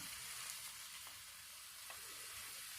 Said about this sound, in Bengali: দেখতে পাচ্ছেন কত সুন্দরভাবে হালকা জালে আমরা এগুলোকে ভেজে নিচ্ছি।